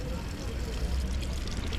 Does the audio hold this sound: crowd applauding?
no